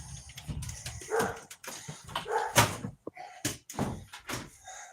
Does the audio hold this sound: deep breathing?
no